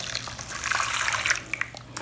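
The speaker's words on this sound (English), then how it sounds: "I'm going to add my water to this" Warm water pouring steadily into a mixing bowl for homemade bread dough, a continuous close splashing gush lasting a couple of seconds.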